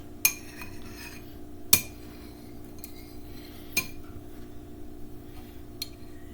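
Chocolate melting in a pan being stirred with a utensil that scrapes softly and clinks sharply against the metal rim a few times, over a steady low kitchen hum.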